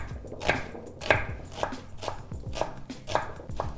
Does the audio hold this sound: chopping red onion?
yes